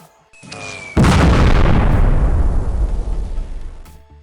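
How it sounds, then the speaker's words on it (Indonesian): A single heavy blast booms suddenly after a brief whine, then a long rumbling roar slowly fades away. "Bom meledak pada target, uji coba berhasil."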